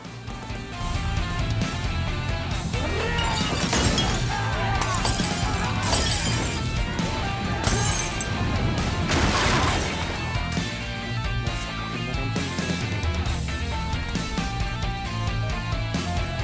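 Glass bottles hurled and shattering during a gang street brawl in the Japanese film High and Low, with repeated crashes and breaking glass over loud, continuous music and crowd commotion.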